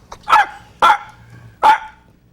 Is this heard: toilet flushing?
no